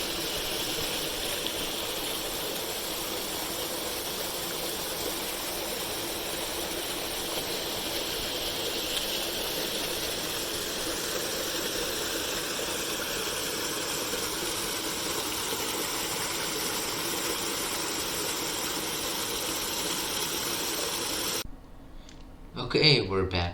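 A car engine running while driving along a road on an Appalachian scenic route, a steady broadband drone and road noise filling most of the stretch before it cuts to a brief quieter moment with a voice.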